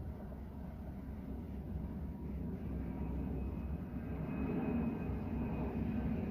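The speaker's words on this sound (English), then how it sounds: "Another jumbo jet." A jumbo jet passes overhead near Houston Intercontinental Airport, a steady, low, rumbling engine roar that swells slightly toward the end, distant and continuous with no talk.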